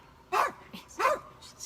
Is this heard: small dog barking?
yes